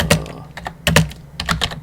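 Quick bursts of keystrokes on a computer keyboard while writing C code on a Raspberry Pi, close and crisp, arriving in three short clusters of clicks with brief pauses between them.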